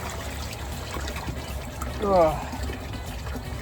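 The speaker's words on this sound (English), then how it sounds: "Did a little bit of a vortex by adding all that water in at one time" Water trickling and pouring into a backyard pool pond over a steady background wash, with a short grunt from a person midway.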